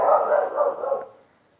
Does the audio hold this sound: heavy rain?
no